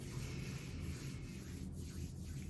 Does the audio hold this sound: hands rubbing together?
yes